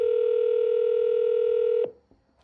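A telephone line gives a steady, loud single-pitched tone that holds for almost two seconds, then cuts off abruptly. A faint click and near-silence follow.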